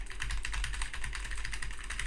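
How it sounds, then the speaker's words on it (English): Steady, rapid typing on a computer keyboard, picked up by a Shure microphone, produces a continuous run of close, even clicks with no pauses. "If you can hear someone typing with a Shure microphone, it's not correct."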